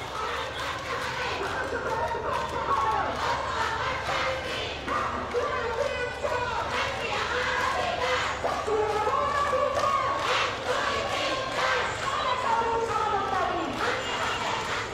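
Protesters sitting on Topkhana Road near the National Press Club block the street and chant slogans in rhythmic bursts, a loud crowd heard with a voice talking over it.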